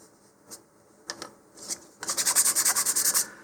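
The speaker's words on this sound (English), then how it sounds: "I'm just going to kind of scrape out the material that ended up in the holes there, just using the back side of my hobby knife" A hobby knife's back edge scrapes debris out of holes in a model rocket nose cone. A few scattered scratches come first, then a steady run of quick rhythmic rasping strokes, close up and fairly loud.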